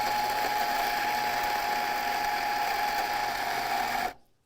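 A Ceado Life coffee grinder whirs at a steady, loud, continuous pitch for about four seconds while its grind setting is adjusted, then cuts off abruptly into silence.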